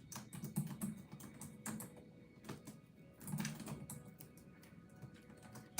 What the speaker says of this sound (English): Okay, so I'm going to type that in the chat.